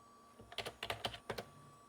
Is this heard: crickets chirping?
no